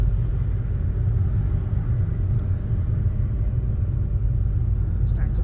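A learner driver's car pulls away from a standstill, with a steady low engine rumble and road noise filling the cabin throughout, unchanging in level and with no sharp revving.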